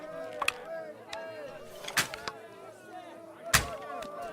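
Weapon shots in the medieval game Kingdom Come: Deliverance II, a few sharp impact cracks spaced a second or so apart over game music and ambient tones, fairly loud and close.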